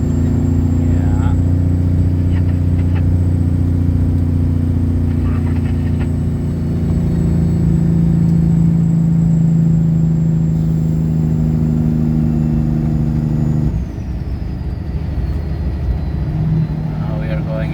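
Loaded logging truck rolling out onto a gravel road toward the highway, a loud steady engine drone and low rumble throughout from inside the cab, with a gear change and drop in pitch near the end.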